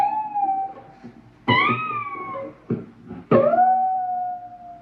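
An electric guitar bent high on the B string at the 20th fret with the whammy bar, mimicking an adult cat's meows in three wavering, sliding cries, clear and close.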